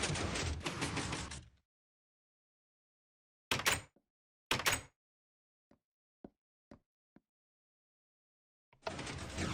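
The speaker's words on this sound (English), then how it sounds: "So that door type is called a Jeb door." A Jeb door works in Minecraft: bursts of mechanical noise come first, then two sharp clunks, several small scattered clicks and ticks, and a final longer grinding rush after a quiet gap.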